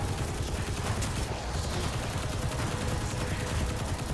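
A submachine gun in a video game fires continuously, its dense rattling stream of shots holding loud and unbroken throughout without pause.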